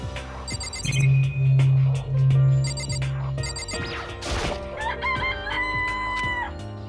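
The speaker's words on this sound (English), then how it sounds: "They're just regular chickens, right?" Video game chickens in Danganronpa cluck and crow with bright, sustained cries, mixed with electronic chimes and game sound effects, loud and close with no talking.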